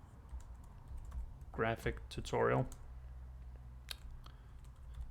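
Someone types on a new computer keyboard, producing scattered close key clicks at an uneven pace, with someone talking briefly partway through.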